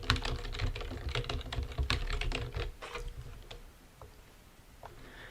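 Rapid clattering keystrokes on a computer keyboard, close and fairly quiet, in dense bursts for the first few seconds before thinning to a few isolated taps.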